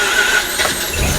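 Engine of an abandoned sports car cranking and catching roughly, a loud, harsh churning with squealing overtones and a surge in low rumble near the end as it fires.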